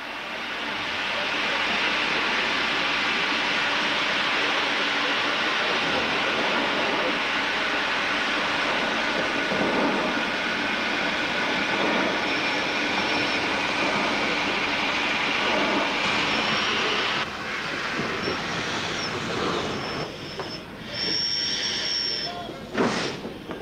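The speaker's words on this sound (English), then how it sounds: "The smallest steam loco present was this Class 2 MT," A Class 2 MT steam locomotive built at Crewe in 1950 gives off steady, loud hissing steam that continues throughout, with faint whistle-like tones and shifting noise toward the end.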